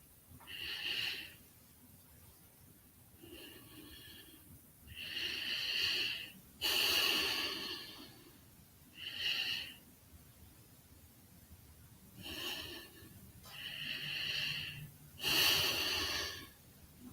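Slow, deep yoga breaths in a guided breathing exercise, each long airy inhale and exhale rising and fading in a steady rhythm of about eight breaths, close and clear with no talking.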